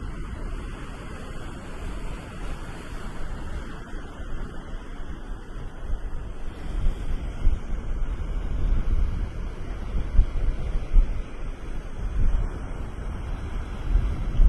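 Ocean surf breaking on a shoreline in strong wind, a broad, continuous rushing roar that swells and builds, with heavy wind buffeting the microphone and no voices.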